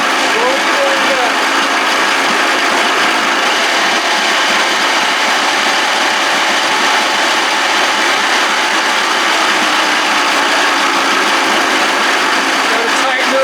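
A 1979 Evinrude 55 hp outboard being adjusted, a loud, steady, dense mechanical rattle and clicking, like a ratchet working over a running motor, continuous throughout with no pauses.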